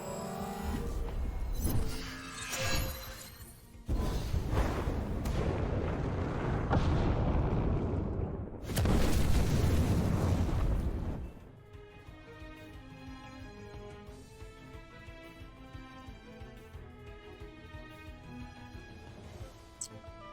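Noxious Bomb explosion from the Temtem video game during a tournament battle: loud booming blasts and crashing bursts in the first half, then fading into game music with softer effects.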